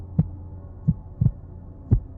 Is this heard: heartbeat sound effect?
yes